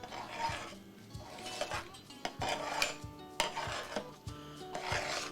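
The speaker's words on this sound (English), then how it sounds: "Sorry for the loud stir. I'm trying not to let it burn." Loud scraping and rasping of a utensil stirring noodles around a pot on the stove, with repeated knocks and clatters against the metal in an uneven rhythm, close and fairly loud throughout.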